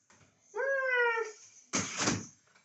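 A cat in a video game gives one clear, drawn-out meow, followed by a short rough hiss-like burst, with quiet game ambience around them.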